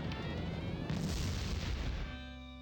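A dynamite explosion in the emulated PC game The Neverhood: a loud, dense boom lasting about two seconds, swelling partway through before dropping to a quieter ringing tail, with no voices over it.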